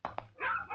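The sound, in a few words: stray dogs barking and whimpering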